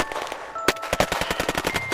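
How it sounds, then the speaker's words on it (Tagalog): Dramatized gunfire rains down on commandos in a sustained burst of rapid machine-gun shots, loud and close, rattling steadily over about a second and a half. "Pagkalipas ng ilang segundo ay pinaulanan na ang mga komandos na mga bala ni Marwan."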